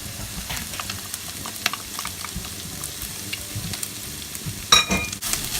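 Garlic sizzling in a pan with browned minced beef, a steady close fry with occasional stirring clatters and a brief louder scrape near the end.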